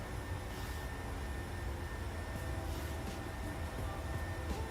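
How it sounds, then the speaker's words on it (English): A PMDG 737 airliner in Microsoft Flight Simulator accelerates during a climb, a steady, loud, broadband engine roar with a deep low rumble that holds constant throughout, with no talk. "Aeroplane's accelerating away."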